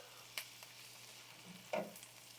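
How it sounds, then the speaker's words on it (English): Minced garlic and onions cooking down in a pan for a garlic parmesan cabbage dish, a faint soft sizzle with two sharp stirring clinks of a utensil. "We're going to go ahead and add the minced garlic, and then we'll cook this down for 1 minute."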